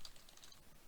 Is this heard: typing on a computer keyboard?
yes